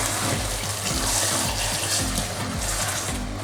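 Tap water runs steadily into a cooking pot being rinsed after making jollof rice, a continuous splashing gush with no talking over it.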